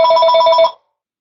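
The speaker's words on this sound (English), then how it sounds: "I had a phone ring" A telephone bell ringing: a loud, close, rapid electronic trill that cuts off abruptly after under a second, leaving silence.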